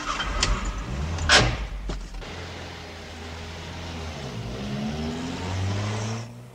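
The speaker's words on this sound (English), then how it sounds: "Just drive quietly around the block." A car in a residential street, starting with a few thuds like a door shutting, then a steady engine note that rises and falls as it pulls away and drives on.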